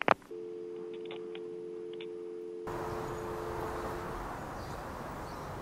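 A steady telephone tone drones on an open line just after a call is hung up, a sharp click at the start, then a flat continuous tone that gives way to hissing line noise partway through.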